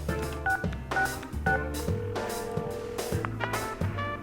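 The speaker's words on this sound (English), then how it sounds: "This time the call connects immediately." Phone call being dialed in the video game Persona 4 Arena: a quick run of electronic keypad tones over a steady background music bed, fairly loud and clean with no talking.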